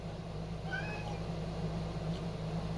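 A house cat named Dexter gives a couple of short, faint meows indoors over a low steady hum, with no one speaking.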